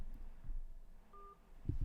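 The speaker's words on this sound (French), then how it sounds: "Excusez-moi, le téléphone, vraiment désolé, je pensais l'avoir coupé." A telephone gives one short electronic tone, faint and brief, over low room noise with no talk.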